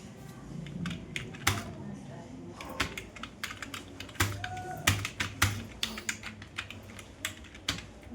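Typing on a computer keyboard while writing a resume in MS Word: uneven runs of close, sharp key clicks with scattered louder strokes, steady for several seconds.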